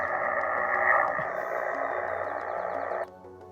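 Steady broadband hiss and buzzing electrical noise on an HF radio channel, loud and constant for about three seconds with faint whistling tones riding on top, then cutting abruptly to a quieter background.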